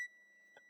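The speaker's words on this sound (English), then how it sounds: "this is my timer" A kitchen timer gives a faint electronic beep at the start, a thin steady tone that fades under quiet room noise while baking in a home kitchen.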